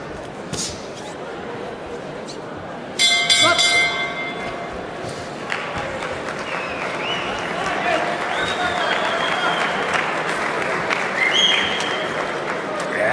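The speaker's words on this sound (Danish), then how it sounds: "Sådan lidt blandede, sporadiske klapsalver her" Scattered, mixed applause from a boxing crowd in Brøndbyhallen arena during a Gennady Golovkin fight, uneven clapping and crowd murmur under steady commentary, with a brief bell-like ringing early on.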